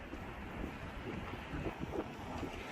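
Wind blowing outdoors on a cold day, a steady low rushing with slight buffeting against the microphone, continuous and fairly even with no voices.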